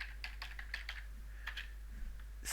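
A computer keyboard is typed on for a search engine query, giving a quick run of light, crisp keystrokes in an irregular rhythm. The clicks are close and clear, with a low steady hum underneath.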